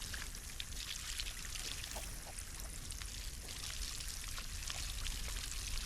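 Water pours from a watering can onto crops in the video game Solarpunk, a steady, fairly quiet splashing stream that runs without a break for several seconds.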